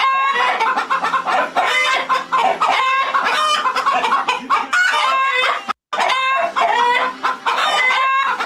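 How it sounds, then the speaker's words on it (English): Chickens clucking and cackling in a loud, dense, continuous chorus of hen calls, close and busy, broken by one brief silent gap before the clucking resumes. "This is the cackling hens."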